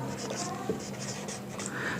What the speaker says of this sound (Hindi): यहां लिखता हूं मैं